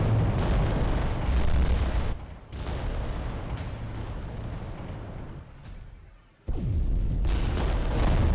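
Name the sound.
return artillery fire in the video game Adeptus Titanicus: Dominus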